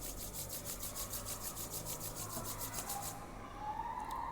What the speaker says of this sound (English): Everyone, rub your hands.